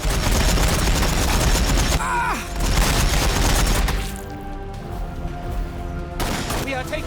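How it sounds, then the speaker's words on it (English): Rapid bursts of gunfire in the Warhammer 40,000: Battlesector video game, a loud crackling volley for about four seconds, then quieter. Chattering fire continues over a game soundtrack, with a whistling effect near the two-second mark. "We are taking fire."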